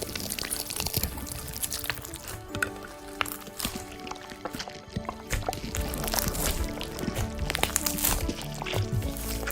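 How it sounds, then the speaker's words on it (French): Glittery rainbow slime is kneaded by hand, giving wet, squelching and sticky clicking sounds in an irregular rhythm, close and fairly loud, with no one talking. "Pétrissons donc la pâte gluante avec les 2 mains"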